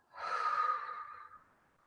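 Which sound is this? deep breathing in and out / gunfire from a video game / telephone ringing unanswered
deep breathing in and out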